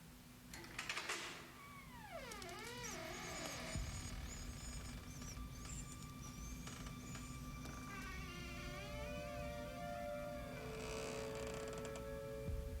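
Old wooden door slowly opening, with long rising and falling creaks and groans from the hinges, close and drawn out over a steady low hum.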